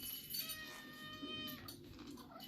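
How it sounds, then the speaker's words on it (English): A cat meowing for scraps in a kitchen while Parmesan chicken is prepared, a drawn-out faint meow with harmonic tones over quiet room noise. "And then there's cats looking for scraps."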